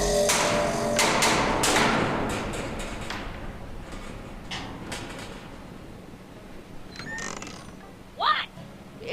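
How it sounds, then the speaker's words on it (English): Knocks on a door in the Back to the Future video game, a handful of sharp thumps and creaks early on, then sparser faint taps over a quiet game background. "Go ahead, knock on the door again."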